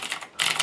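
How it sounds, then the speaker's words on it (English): Fingers type on a MacBook keyboard resting on a Belkin Loft laptop stand, giving a quick close flurry of soft key clicks with a short pause in the middle. "I can keyboard away."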